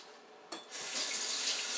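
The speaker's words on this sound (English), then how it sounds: "Rinse your hands." Water from a kitchen sink faucet starts with a brief splash and then runs in a steady, close rush as hands are rinsed under it. No one speaks.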